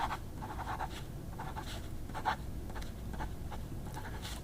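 A Delta Dolce Vita Oversize fountain pen nib scratching across paper, soft close strokes in short repeated bursts over a steady low background hum.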